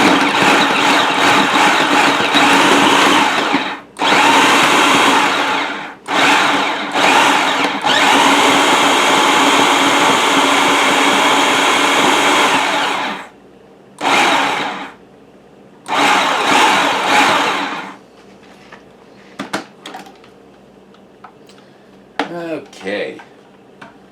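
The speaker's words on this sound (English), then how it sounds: "I'm going to blend this up until the butter's all incorporated in the flour" A kitchen blender blends butter into flour in several loud whirring bursts of varying length, separated by brief pauses and ending with shorter pulses and light clatter.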